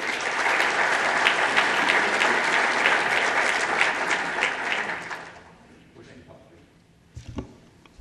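A conference audience at a military ethics panel applauds to welcome two panel speakers, loud sustained clapping for about five seconds that fades out, followed by quiet room noise and a few faint knocks.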